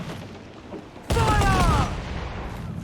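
Ship cannon fire in the pirate game Assassin's Creed 4: Black Flag, a sudden loud booming volley lasting under a second amid rumbling battle noise.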